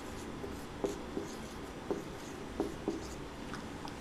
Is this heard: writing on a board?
yes